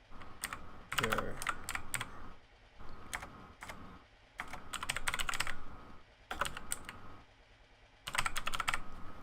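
Rapid clatter of computer keyboard typing comes in several bursts separated by short pauses, close and fairly quiet, with no voices.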